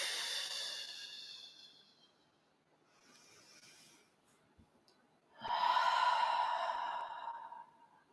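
Slow, audible breaths during a yoga bridge pose without a block, a long exhale fading out, a faint pause, then a stronger airy inhale or exhale, close and unaccompanied by talk.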